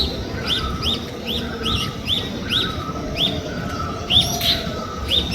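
Green bird calling outdoors: repeated short, sharp chirps at an irregular but steady pace, fairly close, over a constant background rumble with no voices.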